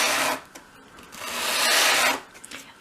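Sandpaper rubs back and forth along the edge of a small wooden dollhouse door, a close, dry rasping that comes in sustained strokes with brief pauses between them.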